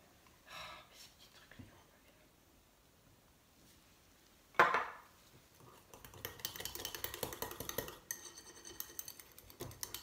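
Ingredients are scraped from a container with a utensil while a slimming anti-cellulite cosmetic lotion is being made, with close clinking and repeated scraping strokes alongside soft speech.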